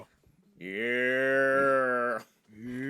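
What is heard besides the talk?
cow moo sound effect used as censorship sound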